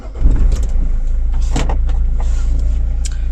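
Steady low rumble of a car interior while driving, loud and close, with a few scattered clicks and a brief whirring burst that might be a power window, and no talk.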